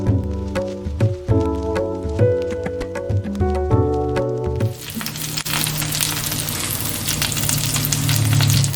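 Chicken thighs that have just been flipped sizzle steadily in a hot pan, a dense crackling fry that follows clinking, tapping handling sounds and grows louder toward the end.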